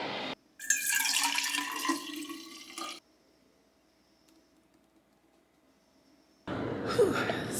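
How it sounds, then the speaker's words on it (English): Cold brew coffee pouring from a dispenser into a cup, a steady splashing stream that stops, leaves a hushed pause, then starts again just as loudly. "So, I got my cold brew filled back up."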